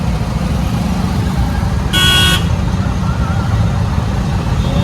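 Road traffic jam with a car horn: a loud, steady rumble of idling vehicles throughout, broken by one short honk lasting under half a second, with people talking nearby.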